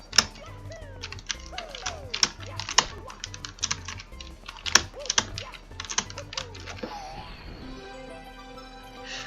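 Rapid, irregular clacking of computer keyboard keys during a Super Mario 74 speedrun, dense bursts of presses that thin out toward the end, close and clear with game sounds faintly underneath.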